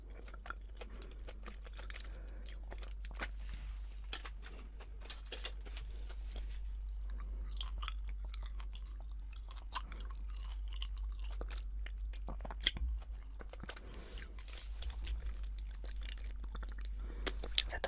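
Soft, close chewing of Japanese chewing gum, with moist clicks and smacks repeating steadily and unevenly throughout, quiet and alone.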